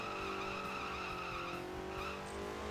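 A toy car in Table Top Racing drifts with continuous tire skidding and squeal over a busy engine drone, loud and close, with no talk.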